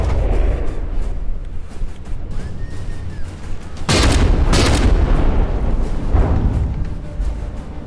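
Naval guns firing in the vehicle-combat game From the Depths, heavy booming blasts around the middle, two loud close shots in quick succession, then a weaker report, over a constant low rumble of battle.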